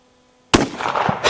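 A single sharp rifle shot from a Winchester chambered in .218 Bee breaks a quiet outdoor silence, loud and close, followed by a brief rolling echo.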